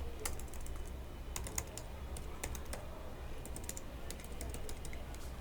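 Code is typed on a computer keyboard in quick bursts of crisp clicks with short gaps between, close and quiet over faint room hiss, with no talking.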